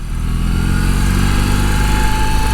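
A BMW R18 motorcycle with big boxer cylinders, its engine held at a steady loud rev close by, a deep throbbing drone with no speech over it.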